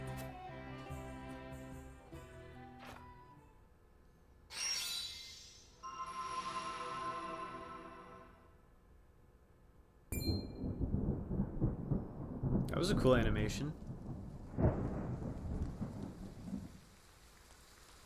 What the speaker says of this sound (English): Rain! Honest to goodness, rain!